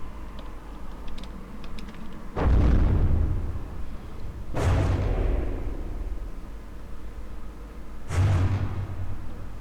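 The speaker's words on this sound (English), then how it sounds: "the shots are still doing the damage with the long-range heavy flak" Long-range heavy flak shells burst during a naval battle in From The Depths, making three loud, booming explosions about two seconds apart, each with a sharp onset and a rumbling decay, over a steady low background drone and faint clicking.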